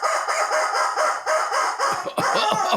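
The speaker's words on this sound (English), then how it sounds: "And the rubber chicken says," A rubber chicken toy squawks in a rapid run of harsh, honking squeals, loud and close, the squeezes bunching together near the end with no voices over them.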